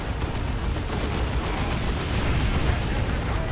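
Grenade blasts in Warhammer 40k: Dawn of War 2 during a 1v1 match, a dense, loud continuous roar of explosions and battle noise with no gaps.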